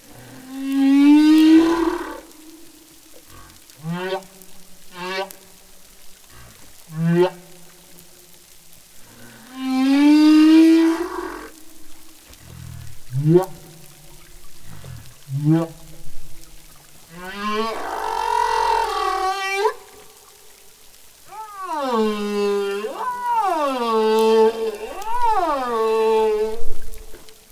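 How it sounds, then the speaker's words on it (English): Humpback whale song, a long sequence of moaning, rising and falling tonal calls with whoops and upsweeping cries, loud and close with brief gaps between phrases and no talk. "that is the song of a humpback whale"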